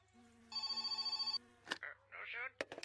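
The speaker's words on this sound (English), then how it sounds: "The phone rings now?" A phone ringing with a bright electronic trill that pulses briefly, then stops, followed by someone speaking close by.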